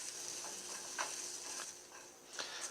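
Garlic sautés in a skillet with a soft steady sizzle, punctuated by several faint scraping stirs of a utensil, quiet and close with no talking.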